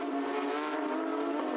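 Porsche Carrera Cup race cars scream past at the Ningbo circuit, a dense, steady high-revving engine roar held loud for a brief moment.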